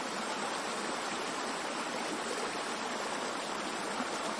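A river rushes steadily through thorny scrub in the hills of Uttarakhand near Ranikhet, a dense, unbroken wash of flowing water heard close and fairly loud throughout.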